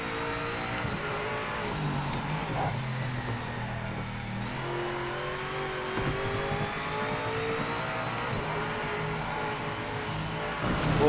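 A BMW GTE race car engine at Spa in Project Motor Racing drones steadily at high revs, the note rising and dipping slightly as the throttle is feathered, with no voices.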